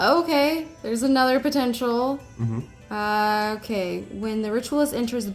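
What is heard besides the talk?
None of the usual background noises is heard.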